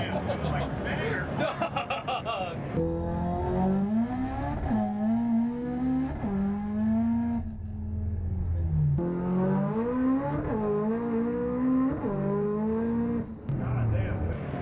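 A car engine in the Gran Turismo 7 video game revving repeatedly, its pitch climbing through the gears, dropping and climbing again, loud and steady throughout, with people talking over it.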